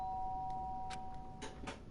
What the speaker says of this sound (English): The sharp sound of the doorbell pierced my sleepy haze and pulled me back to the real world.